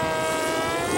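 A Cyberplanes F-117 stealth model airplane flies inverted overhead, its motor giving a steady, moderately loud whine with a faint rise toward the end.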